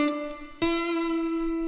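Electric guitar through effects picks a few notes on the B string: a faint note, then a sharp pluck that rings out as a single sustained, bright tone.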